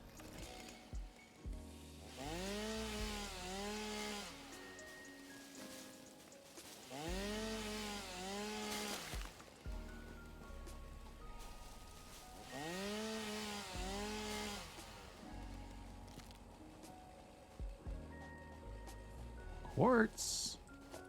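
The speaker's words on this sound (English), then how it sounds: "Need to get my chainsaw re-equipped." A chainsaw in the video game Satisfactory revs up in three repeated cutting bursts with a rising and falling whine, each lasting a couple of seconds, fairly faint, with quieter gaps between.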